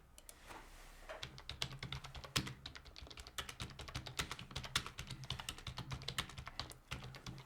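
Rapid, steady clatter of a computer keyboard being typed on during an online blitz chess game, close and moderately quiet, with dense irregular keystrokes and no talking.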